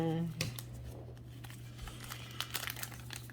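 Crinkling plastic wrap being pulled off a Yu-Gi-Oh! Rush Duel card pack, a short close rustle and tear near the start followed by quieter scattered crinkles, with a low steady hum underneath.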